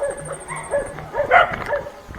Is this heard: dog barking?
yes